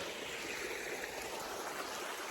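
Stream water flowing along the Appalachian Trail, a soft continuous rushing and trickling at fairly low level, steady for the whole stretch with no voices.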